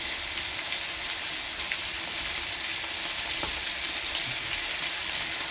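Pork fries in its own rendered fat for binagoongan, a steady, close sizzle with no pauses, crackling evenly with faint scattered pops.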